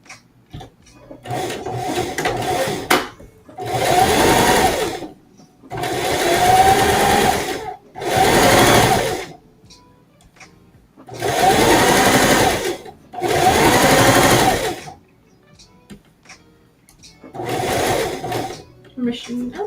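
A home sewing machine stitches fabric in bursts, its whirring motor running for a couple of seconds at a time with short pauses in between, loud and close, with faint room sounds in the gaps.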